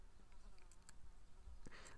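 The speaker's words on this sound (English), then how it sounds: "Sorry if you can hear that fly buzzing around." Housefly buzzing around a room, a continuous faint insect drone with brief swells as it passes nearer, no talk over it.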